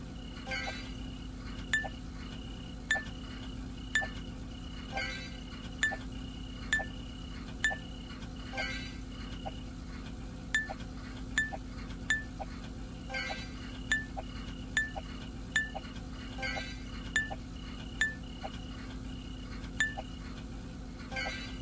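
Glass items clink again and again at a recycling center in a simulator video game, with bright, sharp taps coming at a fairly steady pace, about one per second, over a constant low hum. No voices are heard.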